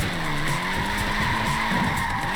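Tiny Lego car tyres squeal in a steady, loud skid in Forza Horizon 4's Lego racing, a continuous screech over a droning engine with no pause.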